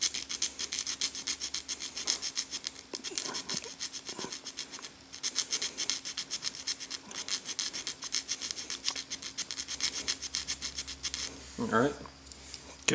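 A metal file rasps rapidly back and forth across the flat of a Victorinox Cadet pocket knife blade, a dense rhythmic scraping that runs nearly nonstop before a brief pause and a final shorter scrape, close and clear.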